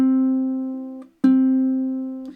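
Ukulele C string plucked twice for tuning, each note ringing out as a steady, clear tone and slowly decaying, the second pluck following a brief pause, close and alone.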